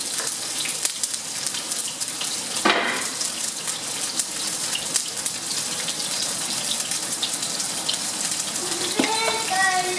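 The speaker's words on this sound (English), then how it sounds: "Hot oil." Milanesa steaks fry in hot oil with a loud, continuous rushing hiss, steady for several seconds with a brief sharper burst partway through.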